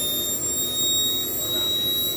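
An 80N RC jet turbine, a B1 80B, idles at 50,000 RPM with a loud, steady broadband roar and a piercing high whine that holds constant throughout, heard close up.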